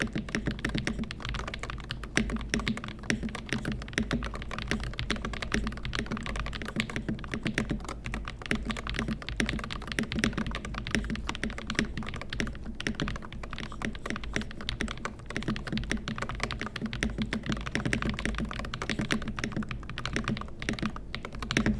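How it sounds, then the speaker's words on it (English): Steady fast typing on a Magger68 65% keyboard fitted with Jade Pro Hall Effect switches, dense overlapping keystrokes clacking continuously up close with no pauses or talk. "The Jade Pro switches are one of the better sounding HallEffect switches on the market, and I actually will give you a quick sound test here."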